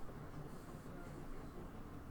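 A steady, dense rumble of the Orient Express moving along the rails in the game 80 Days, a continuous low roar with faint hiss and no distinct clacks.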